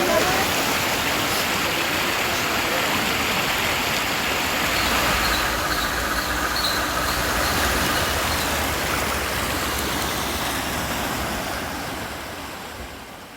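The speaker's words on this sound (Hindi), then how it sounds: "गंगा में निर्बाध बहते नालों का दर्शन प्राप्त हुआ।" Drain water pouring steadily into the Ganges, a continuous broadband rush and splash holding at one level throughout and easing slightly at the very end, with no voices.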